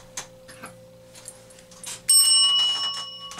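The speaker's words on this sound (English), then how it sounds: "I keep forgetting to use the isekai bell" A bright bicycle-style bell used as an isekai bell rings once with a sharp attack and a sustained metallic ringing tone, loud and close, after a stretch of quieter background sounds.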